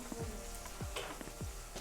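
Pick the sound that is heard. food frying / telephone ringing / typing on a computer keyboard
food frying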